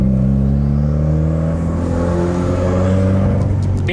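A Subaru WRX with its sway bars removed drives on a back road: a steady, close engine drone whose revs rise and fall, with no talking.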